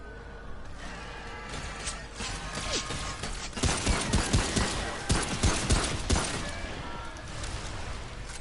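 Enemy gunfire in Remnant: From the Ashes, a run of loud, sharp shots in quick bursts over a dense game-world background, the firing clustering in the middle of the stretch before easing off.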